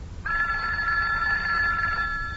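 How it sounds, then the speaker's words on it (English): A telephone bell rings in an old time radio comedy show, one continuous loud ring that starts abruptly and holds steady for about two seconds, with no talk over it. "go ahead and answer the phone. That's your ring, isn't it?"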